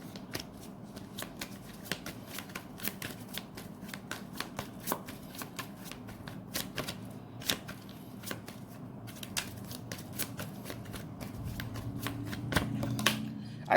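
Tarot cards are shuffled by hand in a quiet room, producing repeated crisp riffling snaps and soft slides in an uneven rhythm, close and clear with no talking.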